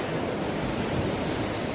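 Steady surf of ocean waves on a rocky beach in winter, a broad continuous roar with wind noise, near and even in loudness throughout, with no voices.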